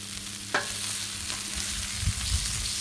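Sausage frying on a Blackstone griddle, a close, steady sizzle with a sharp scrape near the start and a couple of soft thuds later.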